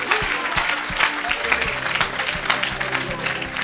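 A church congregation breaks into loud, steady rhythmic clapping mixed with crowd noise, and someone speaks or calls out over it.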